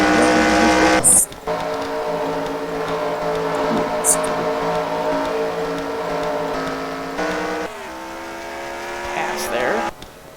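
Race car engines in the NASCAR Racing 2003 video game, a steady high buzzing drone of several cars with pitch shifts as they pass and gear changes, heard continuously under a commentator's voice.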